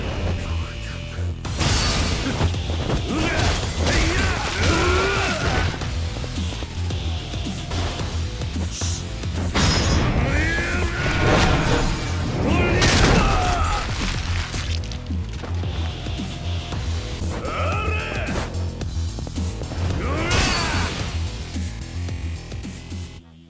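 Street brawl fighting in the video game Yakuza 0: repeated thuds, smacks and crashes with grunting voices, continuous and loud over a steady backing track.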